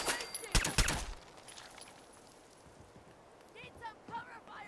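Rapid bursts of gunfire during a firefight in the video game Fallout 4, a loud cluster of shots at the start that fades under game sounds and background voices.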